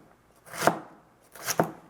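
Knife chopping food into uniform pieces on a board during home cooking prep, two short bursts of crisp cuts separated by a pause, close and clear with no talk.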